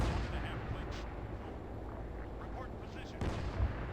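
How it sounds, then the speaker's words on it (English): Sustained artillery and gunfire in a WWII-era Arma 3 battle, a dense continuous rumble of distant rounds with a heavier thump near the end. "Oh, I'm hearing more rounds being fired."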